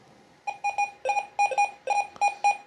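An XP Deus II metal detector sweeps over a piece of foil, answering with a run of short, bright electronic beeps in an uneven, broken rhythm, clear and close with no talk.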